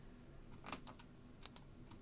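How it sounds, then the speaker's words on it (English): Several computer keyboard keys pressed in quick, sparse taps, close and quiet, with a soft background hiss and no talking. "I'm pressing the keys"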